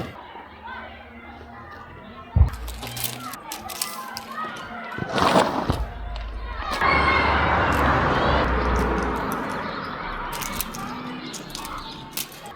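Children play and shout outside near a school classroom, a lively mix of distant voices and squeals with a sharp bang, while an adult talks closer by.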